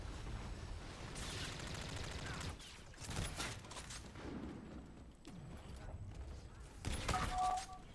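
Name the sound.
gunfire in a video game shooter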